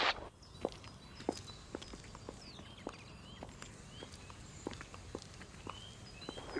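Many footsteps on a footpath, some from high-heeled shoes and some from flip-flops, overlapping as passers-by walk past. The crisp clicks and slaps keep up a varied rhythm against a low outdoor hum, with distant birds chirping.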